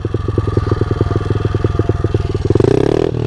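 Motorcycle engine while riding in gear, a loud close rhythmic thumping exhaust pulse that holds steady, then revs up higher near the end, with no talk.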